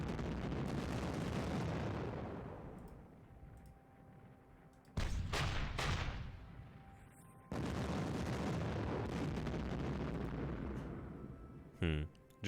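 Heavy artillery fire in the wargame Panzer Campaigns (Japan '45), with deep rumbling booms that swell and fade in long waves, broken by a few sharp blasts and short gaps.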